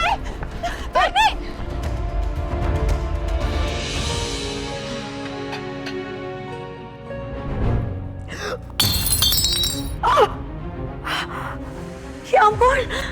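Glass shatters in a sharp burst amid a tense drama scene, with bright crashing fragments standing out over music and gasps; people talk before and after.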